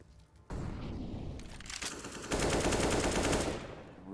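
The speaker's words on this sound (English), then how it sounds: "Rubino with this wall bang again" Sustained automatic gunfire tears through walls in Counter-Strike on the map Vertigo. It is a dense, loud, continuous rattle that swells into a heavier burst midway and then fades, with no voices over it.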